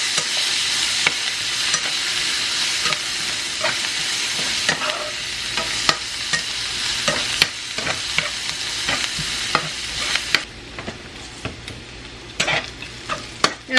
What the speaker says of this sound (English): I'm going to add some chopped onion, diced onion, and diced green pepper. We're going to cook that until that's soft.